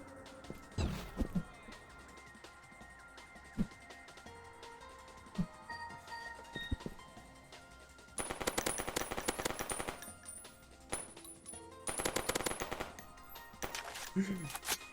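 Rapid bursts of automatic gunfire from LittleBigPlanet 2, coming in dense, loud volleys with short pauses between them, mixed with game music and sound effects and occasional talk.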